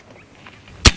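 An AEA Terminator 30 cal semi-auto PCP air rifle fires a single sharp, loud crack near the end, preceded by quiet shuffling at an outdoor range.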